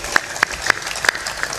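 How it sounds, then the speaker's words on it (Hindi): A seated audience at a Hindi spiritual discourse claps in sharp, uneven bursts, five or six distinct loud claps spaced across the moment rather than a continuous roar. "जोर से ताली बजाया करो"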